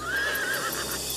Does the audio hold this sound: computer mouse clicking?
no